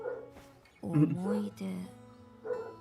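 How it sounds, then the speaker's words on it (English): Dogs bark a few times somewhere in a streamer's home, the short barks mixed in under Japanese character voices from the Umamusume game. "You may be hearing dogs barking on my end."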